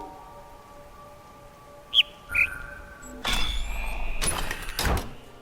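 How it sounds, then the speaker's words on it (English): A lone bird chirps on a lifeless island in the puzzle video game The Witness, two short distinct chirps standing out against a quiet hum, followed by louder mechanical clanks and whirring. "attentive players will notice a bird chirping, which stands out due to the lack of organic life on the island"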